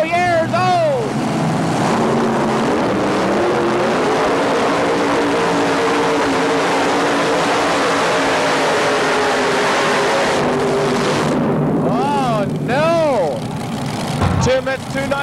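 A five-engine outdoor pulling tractor from Indiana, Mission Impossible, roars at a 1987 truck and tractor pull, a loud sustained multi-engine drone with rising and falling revs and a few sharp swells near the end, with a voice talking early.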